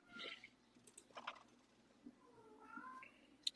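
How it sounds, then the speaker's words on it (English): A cat meows a few times in the background, faint and intermittent, with soft clicks and quiet room noise around it. "is that cat in the background?"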